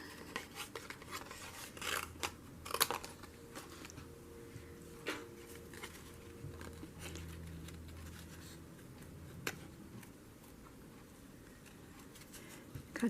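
Scissors snipping out paper for a paper-weaving craft, a string of quiet, irregular cuts and rustles close by at low level.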